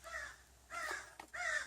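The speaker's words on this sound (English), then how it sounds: "It's Thursday. The crows are out. There's a lot of them here." Crows calling outdoors at a building site: three faint, distant harsh caws in a row with brief gaps between them.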